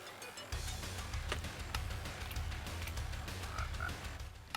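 A frog croaking in Minecraft, repeated low croaks over a steady bed of ambient game sound, moderately faint with no talk.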